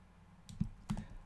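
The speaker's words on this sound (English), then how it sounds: "Time for everyone's favorite part of the stream, where I make random noises deleting text" A couple of computer keyboard keystrokes tap out while text is deleted, two soft, close clicks about a third of a second apart over a quiet room hum.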